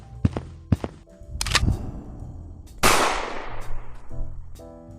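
Toy-like gunfire from an animated Lego Star Wars weapon: a few sharp separate shots, then a loud burst that fades out slowly, with no one talking.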